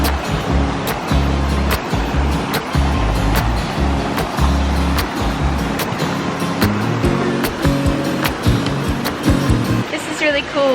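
River flowing past a small cabana in Sidemen, Bali, a continuous rushing wash of water with irregular knocks and bumps scattered throughout.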